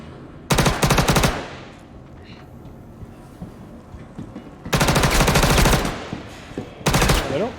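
Enemy gunfire in a video game: loud bursts of rapid automatic fire come in three volleys, roughly a second each, with quieter game background between them.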